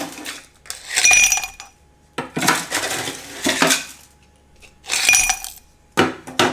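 Ice cubes clink and rattle into a glass for a matcha coconut latte, several loud bursts of bright clattering with short pauses between them and no talking.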